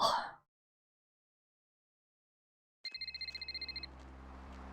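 Telephone ringing in Vampire The Masquerade Bloodlines: after a brief burst of sound and a long silence, a loud electronic bell trills in rapid repeated pulses for about a second over a low steady hum.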